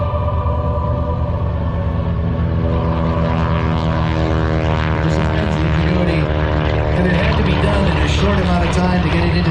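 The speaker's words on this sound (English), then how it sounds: "The TBF Avenger coming up second." A TBF Avenger warbird propeller aircraft flies past at a Sun 'n Fun airshow parade, its loud, steady radial engine drone rising and filling the air, with an announcer talking over it.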